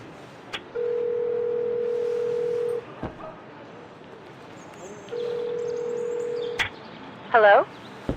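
A telephone call placed in the video game Syberia IV: two long, steady ringing tones sound on the line, separated by a pause, with a few faint clicks and a brief chirp near the end.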